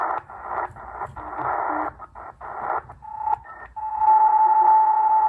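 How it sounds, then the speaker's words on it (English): Continuous wave Morse signals picked up while tuning across the 40m ham band on a shortwave receiver, a steady tone and keyed bursts over hissy band noise, fairly loud and close. "you can see all the continuous wave activity"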